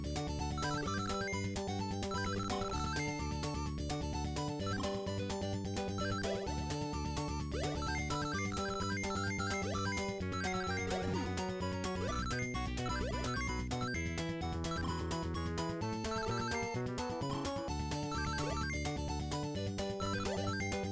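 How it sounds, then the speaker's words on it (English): FM synth music from a SEGA Master System game plays steadily and continuously, with a repeating bass line and bright chiptune melody at even loudness and no talking. "the music seems a bit louder than the other games as well"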